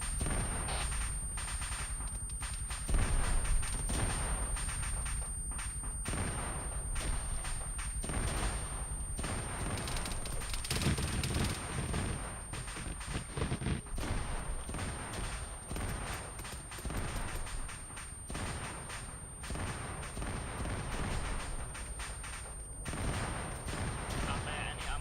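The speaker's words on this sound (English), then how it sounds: "We are under heavy fire" Heavy, sustained gunfire from the video game Modern Warfare, with dense bursts of rifle and machine-gun fire and occasional explosions continuing throughout, under intermittent radio-style voices.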